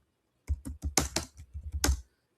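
Fingers type a quick burst of about a dozen keystrokes on a computer keyboard, close and fairly crisp, then stop. No speech.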